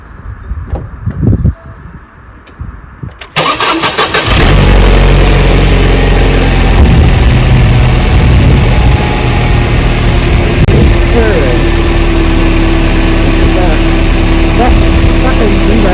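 A Mercedes SLK230 R170 engine cranks and catches, then settles into a loud, steady, rough idle with heavy low rumble and vibration, with some quiet speech-like sounds before the start.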